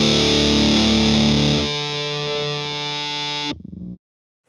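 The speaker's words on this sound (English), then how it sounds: "that beautiful A note singing out in feedback in the second section" A heavily distorted electric guitar holds a sustained A note in feedback: a thick, loud chord thins into a steady singing tone that rings for a couple of seconds, then stops sharply, leaving silence.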